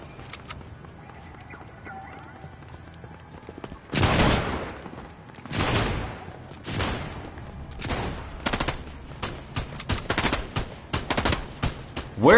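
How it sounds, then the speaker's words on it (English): Gunfire in a shooter video game, rapid bursts of shots scattered and slightly distant, arriving in irregular clusters that grow denser and louder partway through. "I have no idea where the shooting is going on"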